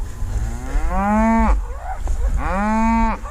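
Cattle calves being rounded up for processing let out two long, loud, drawn-out moos, close to the listener, separated by a brief pause.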